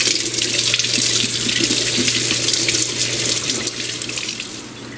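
Tap water pours steadily into a kitchen sink over potatoes being washed, a continuous close rushing splash with no talk, easing slightly toward the end.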